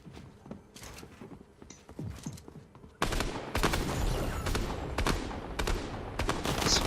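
Gunfire rattles through a Fortnite match: scattered shots at first, then loud, dense bursts of rapid fire that continue to the end.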